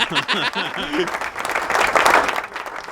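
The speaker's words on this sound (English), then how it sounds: "Where's the clapping? There we go." Applause from a studio audience during a live radio-network show, brief mixed clapping and cheering under overlapping voices in the first second, then a denser burst of clapping building in the middle.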